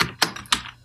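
Quick keystrokes on a computer keyboard, three crisp clicks in an uneven rhythm, close and fairly loud, with no talking over them.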